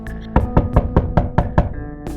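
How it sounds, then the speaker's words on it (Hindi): A hand raps on a wooden bedroom door late at night, about seven firm, close knocks in a fairly even rhythm with brief gaps. "वो श्रीनिवास को ये बात बताने के लिए उनके कमरे का दरवाजा खटखटाती है।"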